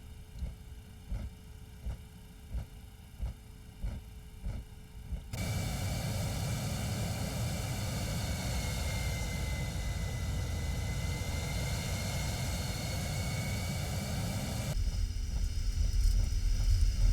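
An airliner's engines spool up to takeoff thrust in the X-Plane 11 flight simulator, a broad, steady roar rising after a few rhythmic clicks, then continuing loud and unbroken with no talking.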